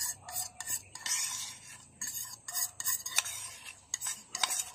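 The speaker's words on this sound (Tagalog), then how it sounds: "Haluin natin ng haluin" A utensil stirs a cornstarch mixture in a pot for soft ice candy, scraping and clinking against the metal in quick irregular bursts, close and moderately loud, with no talk.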